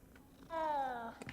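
A cat in the Hogwarts Legacy video game gives one clear, drawn-out meow-like call with a gently falling pitch. It lasts about half a second, close and fairly loud over quiet game ambience, with no talking.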